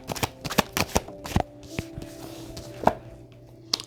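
Oracle cards are shuffled and drawn in quick, crisp riffling clicks, a close run of sharp flicks and taps that slows to a few separate slaps near the end.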